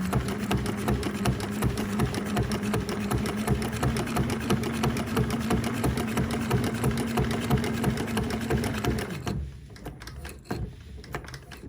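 A sewing machine stitches a fabric tool roll in a rapid, steady mechanical whir for about nine seconds, then stops, leaving a few faint clicks and handling sounds.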